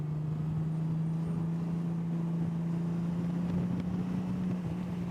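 A touring motorcycle in fourth gear and tour mode opens up, giving a steady, loud low engine drone that rises slightly in pitch over heavy wind rush, with no talking.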